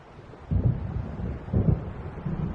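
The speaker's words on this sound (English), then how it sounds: "It seems there's a storm coming." In a video game, deep thunder from an approaching storm rolls low and heavy in two or three swelling rumbles, mixed with windy noise.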